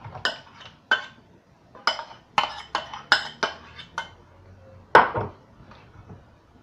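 Brownie batter with bicarbonate of soda is stirred in a bowl, a utensil knocking and clinking against the sides in uneven taps, close and fairly sharp, with quiet gaps between strikes.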